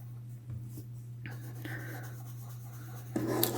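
A pencil scratches and rubs steadily across paper during colouring, up close and soft, with a low steady hum underneath.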